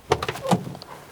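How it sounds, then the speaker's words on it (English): A Rover P4 car door being opened, with a quick metallic latch click and a short clunk, then a faint creak as it swings, close by and alone. "if I open this door now"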